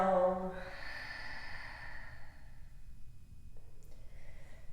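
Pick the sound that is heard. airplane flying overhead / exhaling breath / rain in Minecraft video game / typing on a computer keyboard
exhaling breath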